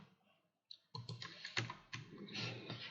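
Quick bursts of keystrokes on a computer keyboard while writing C# WPF code, close and crisp, a brief pause and then a rapid run of clicks with a couple of harder taps.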